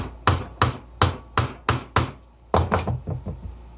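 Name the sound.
chisel cutting wood for hand-cut dovetails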